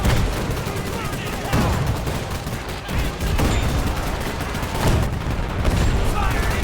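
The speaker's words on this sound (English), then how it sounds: "Machine guns ripping into them." Bursts of machine gun fire rattle through a World War II battle in the strategy game Men of War 2, dense overlapping volleys with explosions mixed in, loud and continuous with no pauses.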